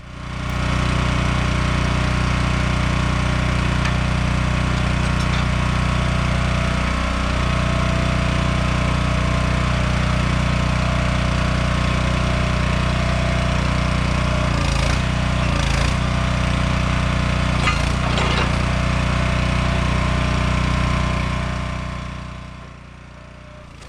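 A home-built log splitter, engine-driven, runs loud and steady at close range while splitting oak firewood, its constant drone broken by a few brief louder bursts before it fades at the end.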